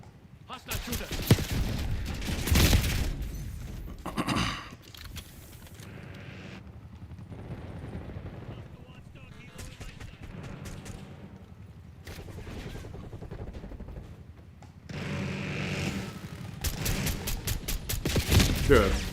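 Gunfire in Call of Duty Black Ops 6 on the Grind map: loud bursts of rapid shots and sustained volleys, heaviest at the start and end, with quieter stretches of scattered fire in between.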